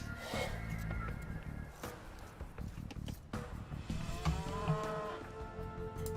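Cattle mooing in the video game Age of Empires 2, a few low lowing calls mixed with layered game sound effects and background music, with a voice talking over parts of it.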